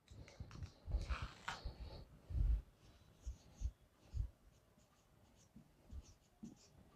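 Marker or chalk scratches and taps on a board during a chemistry lecture, with irregular strokes and knocks up close in a quiet room.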